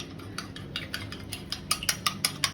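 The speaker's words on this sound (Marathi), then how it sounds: "त्याच्यात मी चवीनुसार एकदम थोडं मीठ टाकणार आहे आणि चांगलं मिक्स करून घेते" A utensil beats a cracked egg with salt in a bowl for a chicken burger coating, producing rapid, regular clicking taps close by that grow slightly louder toward the end.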